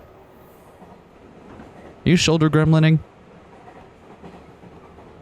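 Steady train rumble runs through a ride across an illuminated city in the video game Steins;Gate, an even moderate background hum with one voice briefly talking over it.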